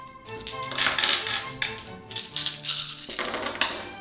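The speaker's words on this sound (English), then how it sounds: "Everyone rolls 10 dice." Ten dice rolled in a game of Tenzi, a close, quick clatter of many small cubes tumbling and tapping against a surface.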